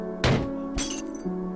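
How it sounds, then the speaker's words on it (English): Heavy thuds against a window in the game Death End Re;Quest, two sharp impacts with glassy cracking and ringing, over a steady low musical background. "It sounded like someone was pounding on my window with enough force to shatter it open."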